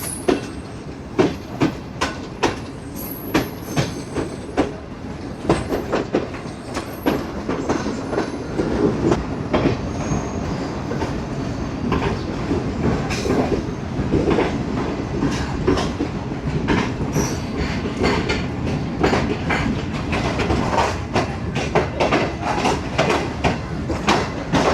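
Shalimar Express passenger train at a Pakistani station platform on the Lahore to Multan run, rolling with loud steady clickety-clack of wheels over rail joints, repeated rhythmic thumps near, continuous for the whole stretch.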